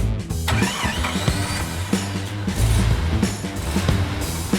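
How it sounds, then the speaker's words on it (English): A Tofas Sahin 1.6 ie car engine cranks, catches and settles into a loud, close running idle with a few rising revs. "Now we can start our vehicle."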